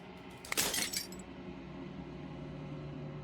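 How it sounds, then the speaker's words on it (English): A single burst of shattering glass in the video game Slay the Princess, bright and crisp for about half a second, then fading into a low steady hum. "As the final fragment of glass shatters"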